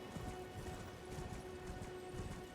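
Horse hooves clopping in Elden Ring, a quick regular gait close by, layered over a constant dense ambient wash with a faint steady tone.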